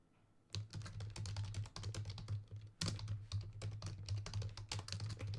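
Rapid clicking keystrokes on a computer keyboard, close and clear, in quick irregular bursts with a couple of brief pauses and a sharper thump of a key partway through.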